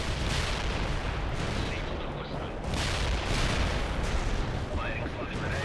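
Artillery bombardment in the World in Conflict video game, a dense, continuous roar of blasts and rumbling explosions that keeps a steady level throughout, with voices faintly mixed in underneath.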